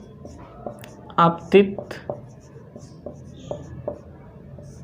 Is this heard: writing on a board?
yes